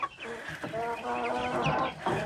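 Free-range farm chickens fed on corn cluck close by in a quick, busy jumble of overlapping calls, loud and continuous for a couple of seconds.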